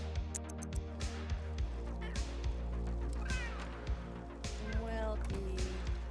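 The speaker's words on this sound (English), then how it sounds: "Cats are being noisy up there" Cats in The Sims 3 life simulation game meow repeatedly with rising, wavering cries over steady game music and soft rhythmic thumps, while a person talks throughout.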